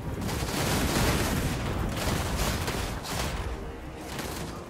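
Volleys of musket and pistol fire from Free Company troops on a Total War battlefield crackle densely and continuously, loud overlapping shots rolling in waves with no speech.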